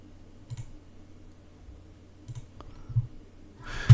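Sparse computer mouse clicks during a Revit modelling session, three or four short sharp taps spread out over a quiet room-tone background, close to the microphone, with one louder burst at the end.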